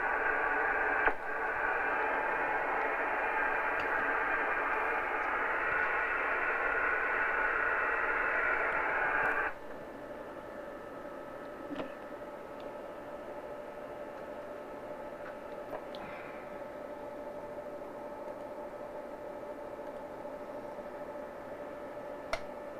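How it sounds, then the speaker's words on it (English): Weak amateur radio signal barely rising above hiss and static: a loud band of noise for the first nine seconds, then a quieter steady hum with faint tones and occasional small clicks, no clear voice. "the signal is gone down so much that you're just above the noise level"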